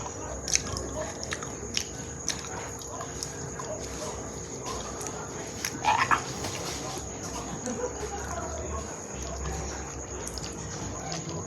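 Someone bites into a creamy durian fruit, a brief soft squishy bite standing out midway over a low, steady background with a few small mouth clicks.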